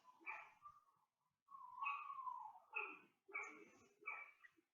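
Pet dogs make a few short barks and whining yelps in separate bursts at close range, fairly faint, with quiet gaps between.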